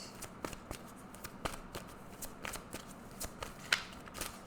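Tarot cards are shuffled in a quiet room, giving soft, irregular riffling and flicking taps close up, with no talking.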